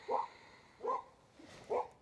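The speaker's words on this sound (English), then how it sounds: "Little dog fight here." Small dogs scuffle and bark in three short, evenly spaced yaps, fairly near but moderately quiet, over a low background hum.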